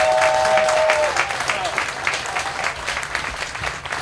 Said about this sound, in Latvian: vēl aplaus viņam.